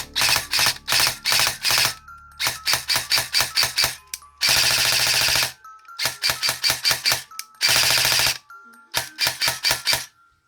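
An airsoft gun with a newly fitted cheap MOSFET fires loud, close bursts of rapid mechanical clacks, with short volleys and longer sustained strings separated by brief silences.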